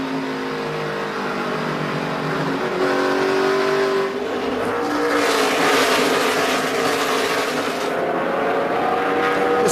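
NASCAR stock cars race at the 2012 Sylvania 300 with a loud, continuous engine roar. Pitch shifts rise and fall as the cars accelerate and pass.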